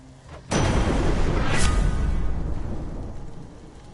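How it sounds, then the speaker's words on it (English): Deep thunder from the video game Hades rolls in abruptly and stays loud, a broad rumbling roar with a sharper crack partway through, then slowly fades over a few seconds with no voices. "Thunder and lightning"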